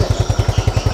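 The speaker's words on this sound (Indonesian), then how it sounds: "Suara di mesin halus, nggak ada suara aneh-aneh apa-apa, nggak ada." A motorcycle engine idles smoothly and close up, giving an even, rapid chugging pulse with regular beats and no irregular knocks or rattles.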